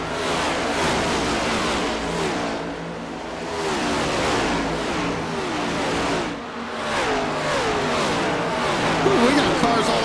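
Several race cars roar around the Darlington track in a NASCAR Next Gen Cup Series video game, engines droning and revving continuously at steady loudness, with overlapping pitch sweeps as cars pass, and commentary voices talking underneath.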